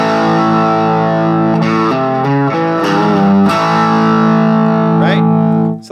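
Distorted electric guitar holding a thick sustained chord while a note on the G string is bent, the pitch sliding and wavering, loud and close throughout.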